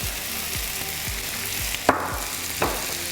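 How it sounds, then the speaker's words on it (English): Sliced onion and garlic frying in a heated pan, a steady close sizzle with repeated low scraping stirs and a couple of sharp clinks. "And you just want to fry this until it's a little bit golden."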